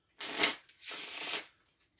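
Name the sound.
playing cards being shuffled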